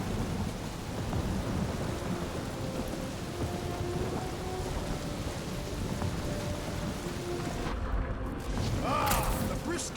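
Stormy weather in the video game Guardians of the Galaxy brings a steady, dense hiss of rain and low rolling thunder with faint tonal hums, plus a brief rising sweep near the end.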